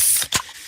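Freshly opened can of Pepsi gives a quick, close pop with a short bright fizz and hiss, lasting well under a second with no voices.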